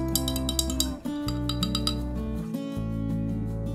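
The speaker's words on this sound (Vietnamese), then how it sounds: "các bạn khuấy đều lên." A spoon stirs cooled cinnamon water in a glass, giving a quick run of bright clinks against the rim, fairly close and clear over a steady background.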